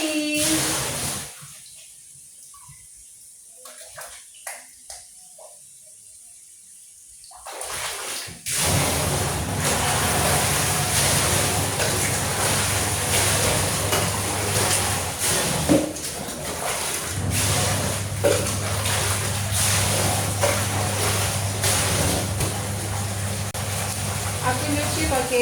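Water runs and splashes loudly while laundry is washed by hand at home. Faint handling noises come first, then a strong continuous flow that briefly changes pitch, with someone speaking at times.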